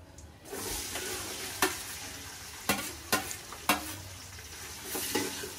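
Oil and butter sizzle hotly in a pan for pulao, a bright continuous hiss with a few sharp crackles and pops scattered through it.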